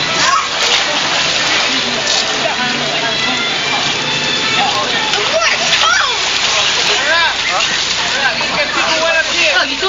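Loud, continuous water splashing as a girl enters a pool, dense and close throughout, with voices talking over it.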